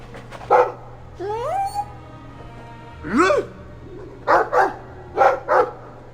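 Dog in Dragon Age II giving a few short barks and a whining yelp, close and fairly loud, with a steady low game hum underneath and a brief voice mid-clip.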